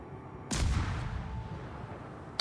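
Naval guns firing from a warship in World of Warships: a single heavy boom with a rumbling tail that slowly fades, followed by a faint distant crack near the end.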